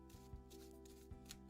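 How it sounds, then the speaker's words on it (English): Tarot cards being shuffled at close range, a soft papery riffle with a few brief slaps and flutters over a low steady hum. "Let's take a little shuffle"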